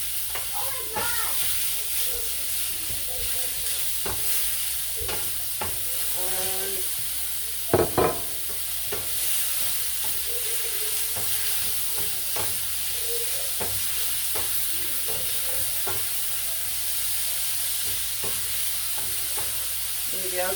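Ground beef sizzling and frying in a pot, a steady hiss broken by repeated scraping stirs and a brief louder clatter, with some faint talk in the background.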